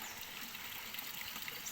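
Water from an old fountain trickles and splashes steadily inside a rock crevice at a stone washhouse, a continuous close gush with no pauses.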